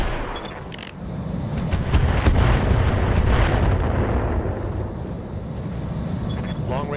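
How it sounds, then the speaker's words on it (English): Long-range missile salvos launching and exploding in the mech combat game RogueTech: a dense, continuous low rumble of blasts and booms, loud and sustained throughout, with no voices. "Long-range missiles are out."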